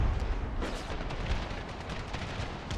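Artillery fire in Empire: Total War with the Brothers vs. Brothers mod, a dense continuous rumble of cannon blasts and booms rolling at a steady level without pause.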